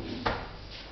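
A kitchen drawer slides shut with a single short knock, close by and fairly quiet, with no talking over it.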